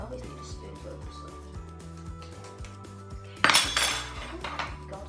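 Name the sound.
spoon opening canned peach halves in a dish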